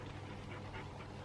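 Two pet dogs breathe in steady, soft panting, close by but quiet, with a faint whimpering edge over a dull room hiss and no talking.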